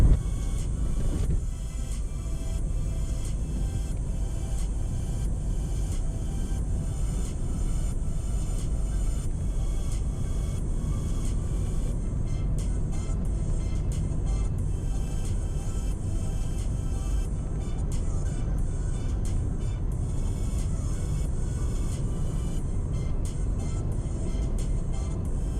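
A car drives along an outback road past termite mounds, a steady broadband engine and road rumble holding loud and constant throughout, with no talking.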